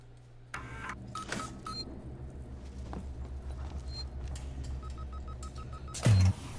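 Short electronic beeps signal a game save in the video game Alien Isolation, a series of evenly spaced soft tones over a low ambient hum, with a sharp louder burst near the end.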